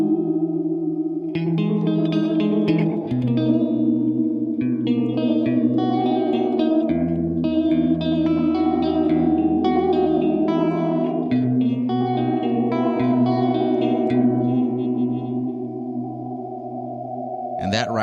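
A Paradox Effects reverb pedal played with guitar chords, its expand effect swelling upward with chorus-like modulation and lush echoing tails, loud and continuous throughout.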